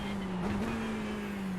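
Ferrari 488 GT3 Evo racing engine at Interlagos in iRacing, a sustained engine tone that dips briefly and then holds steady, close and continuous, with no voices.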